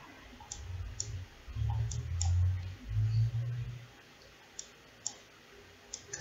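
A computer mouse clicks while navigating Google Earth. Scattered single sharp clicks come close and clear, spaced out after a stretch of low humming tones.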